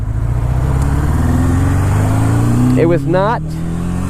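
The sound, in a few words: 1980 Suzuki GS750 motorcycle air-cooled engine during test ride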